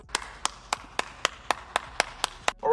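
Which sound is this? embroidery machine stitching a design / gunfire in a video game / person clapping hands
person clapping hands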